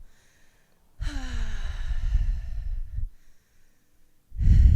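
Breathing during a yoga flow, one long audible exhale like a sigh, then silence, then the start of a second heavy breath, close and clear with no talk.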